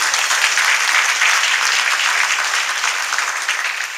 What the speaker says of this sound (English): So please give them a big hand for all the work.